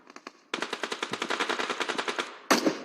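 Video game gunfire in PUBG Mobile: a few light shots, then a fast, even automatic burst of around twenty close, punchy rounds, ending in one louder blast.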